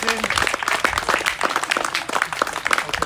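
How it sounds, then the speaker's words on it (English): A crowd at an auction sale breaks into loud, dense applause that fills the room right after a sale, with a voice talking over the clapping. "Put your hands together."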